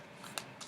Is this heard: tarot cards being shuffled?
yes